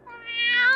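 A single black cat gives one short, clear, rising meow close by, loud and alone.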